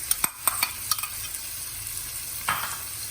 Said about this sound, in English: So once the butter is melted, we are going to add the onions.